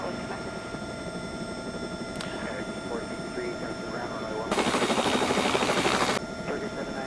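A Bell 206 helicopter in X-Plane 11 comes in to land at La Rochelle airport, its steady rotor and turbine drone humming throughout, with a louder broadband rush swelling midway before easing back; someone speaks over it.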